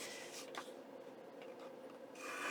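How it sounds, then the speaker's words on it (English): Paper being trimmed along its bottom edge for a junk journal flip pocket, giving a soft, close rasping cut that rises and falls, with a louder swipe at the end. "I think I'm going to trim the bottom off too, just a little bit."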